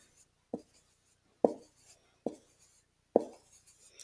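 A marker taps and scratches on paper while shading in squares, four separate short strokes spaced about a second apart, quiet and close, with no voices.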